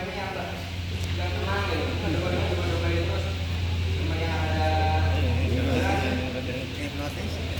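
A sheep tied up for qurban slaughter bleats repeatedly in close, wavering cries over a steady low hum, while people talk nearby.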